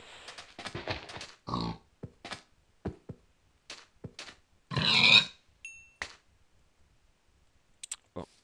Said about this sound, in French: Il y a un cochon.